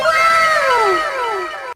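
A man's scream sound effect for a Hindi horror story: one loud, sustained, wavering shriek with a falling pitch, lasting under two seconds and then cutting off abruptly.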